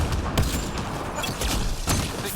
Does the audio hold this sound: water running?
no